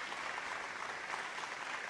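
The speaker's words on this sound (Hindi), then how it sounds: "जोरदार ताली से स्वागत करल जाओ" Loud applause from a studio audience at a Bhojpuri singing show, a dense steady wash of clapping that stays constant throughout without voices.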